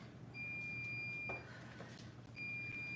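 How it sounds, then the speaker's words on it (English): A kitchen timer beeps in two runs of thin, steady electronic tones, the second starting after a short pause, fairly faint over low room hum. "will you turn off that timer for me"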